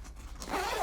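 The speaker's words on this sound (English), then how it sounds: "And then just a little zipper" A small clear zipper on a Planet Eclipse GX2 Classic kitbag pulled in one short, close rasping stroke, faint and alone.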